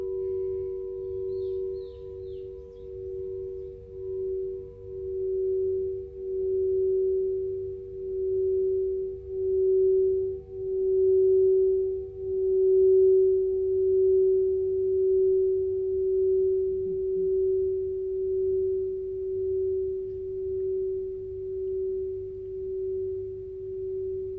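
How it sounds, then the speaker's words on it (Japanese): Crystal singing bowls, including a 7-inch F#+40 bowl, ring together in a steady, pure sustained tone, with a slow pulsing beat as their pitches overlap, continuous and calm throughout. "他のボールと合わせるとまた違う音が聞こえてきたりとかします"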